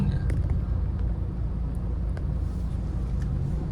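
Congested cars on a busy road on a public holiday, a close, loud continuous engine rumble with low idling drone and occasional faint clicks, with no break in the steady traffic noise.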